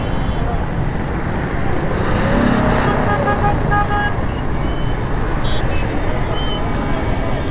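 Gridlocked traffic on a Karachi street at Munawar Chowrangi, Gulistan-e-Johar: a steady, loud wash of idling and creeping vehicles, a couple of brief horn toots in the middle, with someone talking over it.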